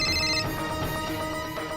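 A telephone rings with a call from Mom, its bright electronic ringtone sounding steadily and fairly loud for the whole moment, alone with no talking over it.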